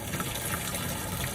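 A motor pump fills a farm spraying tank with water, making a constant rushing gush of liquid pouring in, loud and near, steady for the whole stretch, with nobody speaking.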